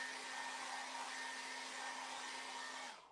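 A hair dryer blows steadily on a sculpture of a weightlifting athlete to dry it, giving a loud, constant broadband whoosh with a steady motor hum that runs without pause and cuts off abruptly at the end, with no talking.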